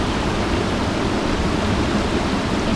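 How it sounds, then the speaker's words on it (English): Steady broadband rush of a flowing river, close and continuous with no talking over it. "see how the river is flowing?"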